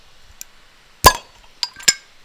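Tap popped on a keg of 2019 home brew: one sharp bright clink, then two quicker lighter metallic knocks close by, with no talk.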